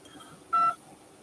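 A single telephone keypad tone from one key press on an automated NHS 111 phone menu, a steady clean dual tone lasting about a quarter second between quiet line hiss.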